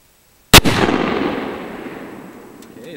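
A Tannerite exploding target detonated by a .44 magnum rifle shot: one sharp, loud blast followed by a long rumbling decay that fades over a few seconds, with no voices.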